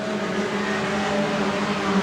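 Junior sedan race cars racing around a track, a dense steady engine roar from several cars blending together, loud and continuous.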